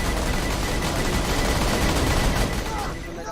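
Gunfire from a gun in the video game Borderlands 2: a rapid, unbroken volley of loud shots filling the whole stretch, easing slightly at the very end.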